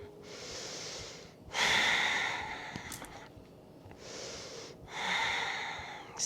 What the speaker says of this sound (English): Exhale to soften.